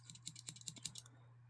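Victorinox 91mm scissors on a modded Leatherman Wave Plus clicking into their detent: a quick run of small, crisp clicks and ticks, close and fairly quiet, then silence.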